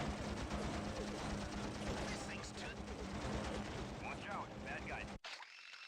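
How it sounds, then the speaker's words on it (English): Anti-aircraft fire in the Heroes of the Pacific video game: dense, continuous rapid gunfire with booming bursts and a mechanical rattle, alongside a steady engine drone, that cuts off sharply near the end. "we're gonna fly away because we're taking shitloads of AA fire"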